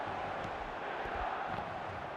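Stadium crowd in the eFootball mobile video game, at a match set in Munich, gives a low, steady murmuring roar with a few dull swells, faint and continuous with no voice on top.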